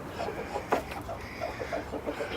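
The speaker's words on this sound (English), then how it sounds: "I'm just heading into the barn for a chicken update." Chickens clucking inside a barn, a busy run of soft repeated clucks and short calls from several birds at close range, with one louder squawk standing out.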